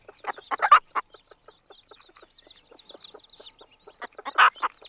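A newly hatching chick inside its egg in a farmyard, cheeping in rapid strings of short, high peeps, with louder, lower clucking bursts at the start and near the end.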